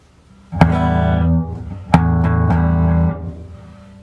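Electric guitar through a refurbished speaker cabinet fitted with an Eminence 15-inch 7365 speaker, clean with no distortion at about half volume: two loud strummed chords ringing out, each sustaining over a second before fading.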